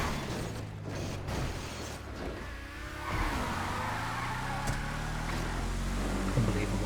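An Apocalypse Bruiser vehicle in GTA 5 races along at speed, its engine droning and shifting pitch with squealing, skidding tyres, a steady close roar with brief knocks and bumps.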